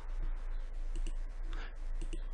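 Quick keyboard key presses for a Ctrl+O shortcut on a computer keyboard, a few light clicks close by over a steady low hum, with no voices.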